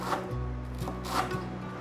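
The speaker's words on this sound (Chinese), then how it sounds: "把金针菇切碎。" Enoki mushrooms chopped with a knife on a board, a soft, steady series of close, muffled thuds with light scraping, quiet and without speech.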